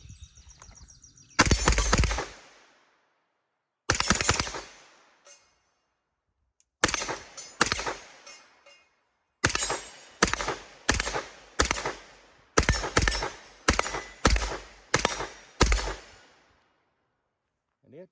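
Gunfire from a firearm fitted with a Promethean LP1 red dot sight cracks out in sharp single shots, first spaced apart and then in a quicker string of evenly timed rounds, each loud and close with short decay.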